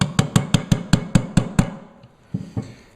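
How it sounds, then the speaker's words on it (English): A steel punch struck by a hammer against a pin in an AK rifle receiver, eight sharp metallic blows in a quick even rhythm, then a pause and two more lighter taps, close and loud. "I'm just going to get on it with the punch again"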